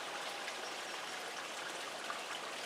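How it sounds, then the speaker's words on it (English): Steady, continuous rush of flowing water with fine trickling and droplet texture, close and even throughout, no voices. "Can you hear the water movement?"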